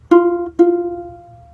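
Ukulele C string plucked twice with a finger at the fifth fret, two clean bright notes about half a second apart, the second left ringing and fading, close and alone.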